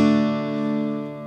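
A single acoustic guitar chord strummed without the open A string, one close bright strum that rings out and slowly fades over about a second.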